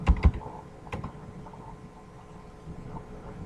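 Computer keyboard typing while writing a Python program: a few sharp, close key clicks at the start, then sparser light taps fading into quiet room hum.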